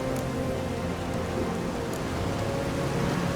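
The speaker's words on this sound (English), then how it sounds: "Storm's died down." A thunderstorm in The Witcher 3: a steady, dense hiss of heavy rain with a low rumble of thunder underneath, continuous throughout with no voices.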